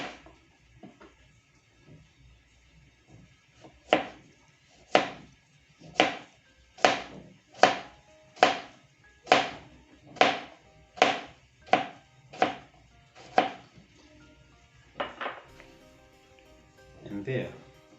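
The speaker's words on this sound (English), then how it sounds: "I'm going to slice my cucumber." A knife slices through a cucumber on a cutting board, about a dozen crisp, evenly spaced cuts close by, preceded by a few lighter taps and followed by a couple more strokes.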